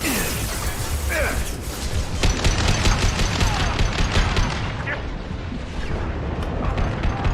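Dense bursts of gunfire and mechanical clatter from combat in the video game Mass Effect 2, loud and continuous with crashes and impacts mixed in, alongside a voice speaking over the fight.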